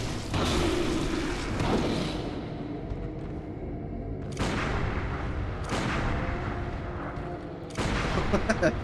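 Gunshots from the video game Bloodborne, four loud blasts spaced a second or two apart, each with a booming tail over steady game ambience.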